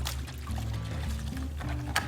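Top Line Naturals refreshing wash poured into a bucket of hot water, a brief close liquid pour over a steady low background hum.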